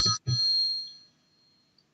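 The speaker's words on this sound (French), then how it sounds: "moi, j'ai mis la vieille sonnerie" An old-style telephone ringtone announcing a call from the caller's mother, heard as two short bursts of ringing close to the phone, after which the tone fades into quiet.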